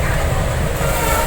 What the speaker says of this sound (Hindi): वाटवा शेड डीजल लोकोमोटिव